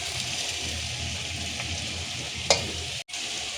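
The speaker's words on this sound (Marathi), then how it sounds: "आता आपण ह्याच्यात कांद्याची पात ॲड करूया" Onion greens drop into a pan of frying village-style mixed vegetables with cauliflower, giving a steady close sizzle and crackle. A brief clatter of stirring breaks in, then a short dip before the frying continues.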